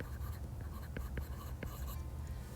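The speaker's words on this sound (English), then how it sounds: "So, I'll just write systole." A pen writing by hand during an anatomy lesson, faint scratchy strokes and a few light taps against a quiet, hissy room background.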